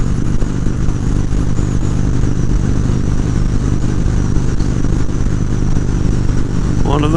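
A Harley-Davidson Road King touring motorcycle cruises on the interstate, its engine a steady low rumble blended with heavy wind roar, loud and continuous from start to finish.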